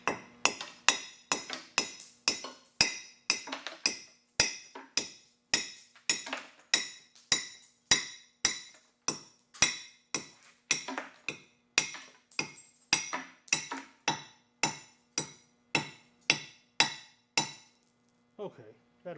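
Scrap glass edge being chipped and torn with a tool, a long series of sharp, bright clinks and cracks in a fairly regular rhythm, each hit ringing briefly before the next.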